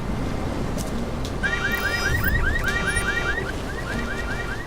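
Alarm in the Deus Ex: Mankind Divided video game: a repeating rising electronic chirp pattern cycling in bursts over a steady ambient hum, moderately loud, with no talk.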